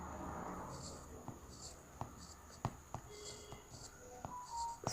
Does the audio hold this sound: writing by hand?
yes